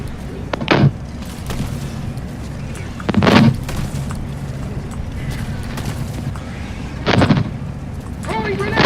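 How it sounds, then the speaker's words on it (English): Several heavy booms in Helldivers 2, set roughly three seconds apart against a steady rumbling battle background, each a short loud thud with a decaying tail, as a grenade goes off. "Throwing grenade."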